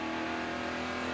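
Steady high-pitched engine drone heard from inside Allgaier's NASCAR Nationwide race car at Kentucky, loud and constant over a brief moment.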